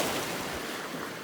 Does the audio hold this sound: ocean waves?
yes